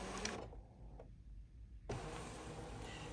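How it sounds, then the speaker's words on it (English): A Brother ScanNCut machine scanning its cutting mat, giving a steady close mechanical whir with a brief quieter stretch before the motor resumes at full level. "The machine is scanning my mat. So it's locating where on my mat my fabric is."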